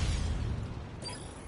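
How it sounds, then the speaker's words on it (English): A bomb explosion in a tactical shooter video game, a heavy low rumbling blast that rolls on and slowly tails off. "Taken out by an explosion"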